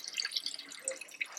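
Water trickles and drips through a slightly opened valve fed from an overhead tank in a fluid machinery lab notch setup, a faint, steady patter of small drips and splashes without any talk.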